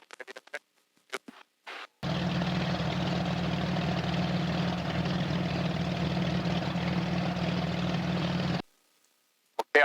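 A T-34 aircraft engine runs at a steady, loud idle for several seconds before taxi, starting abruptly and cutting off, with brief clicks and handling noises before and after.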